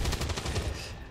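Gunfire in the video game XCOM 2, a rapid burst of several sharp shots in quick succession, loud and dense, fading out at the end.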